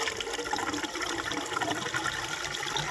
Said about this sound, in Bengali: নতুন পাম্প, আর তোমাদেরকে একদম চালিয়ে দেখাচ্ছি শ্যাম ভাই জলটা কেমন দেয়